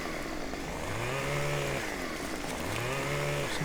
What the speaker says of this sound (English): Chainsaw just wants to saw.